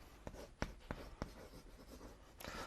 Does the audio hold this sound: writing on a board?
yes